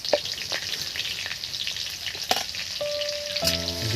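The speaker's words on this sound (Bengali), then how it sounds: "এবার বন্ধুরা এই তেলের মধ্যে অল্প একটু লঙ্কা দিচ্ছি," Kashmiri chili sizzles and fries steadily in hot oil while a utensil clicks and scrapes against the pan now and then, close and constant.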